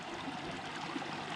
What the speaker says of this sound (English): It's just way too much water flowing.